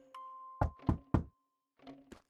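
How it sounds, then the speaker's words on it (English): Game-world door knock in Spirittea: three solid thuds in quick succession, fairly loud and close, followed after a pause by two softer knocks, with a faint held tone lingering underneath. "Knock."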